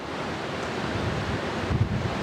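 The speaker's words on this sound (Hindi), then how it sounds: "ये जलप्रपात बीहर नदी पे है" Chachai waterfall on the Bihar river in India, 130 metres deep, pours with a steady broadband roar like rushing water and wind, continuous and distant-sounding with no voices.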